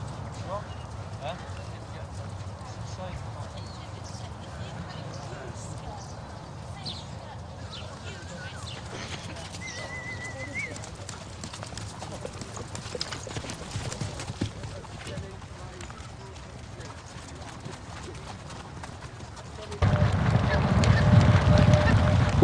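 Racehorses' hooves clip-clop with a brisk, steady rhythm at moderate distance, and a louder rumble swells near the end.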